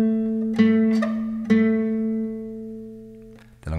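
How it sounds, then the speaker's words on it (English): Guitar picking the second-fret note on the G string several times over, each pluck a clear attack that rings and decays before the next, played close and alone. "The first note we're going to play is the second fret G string."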